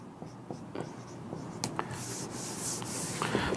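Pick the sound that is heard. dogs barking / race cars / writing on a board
writing on a board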